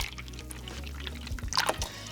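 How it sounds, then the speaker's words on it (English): Two protein shakes are poured into a bowl. The liquid splashes and trickles under kitchen clatter and ends in a short burst of dripping. "I'm gonna pour in our 2 shakes into the bowl."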